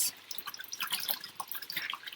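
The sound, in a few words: rinsing a dirty grout sponge in water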